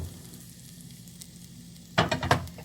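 Tomato puree from one whole tomato hits a pan of hot oil for homestyle chole, with a soft steady sizzle followed by a louder burst of crackling and spattering near the end.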